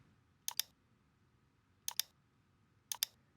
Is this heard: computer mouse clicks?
yes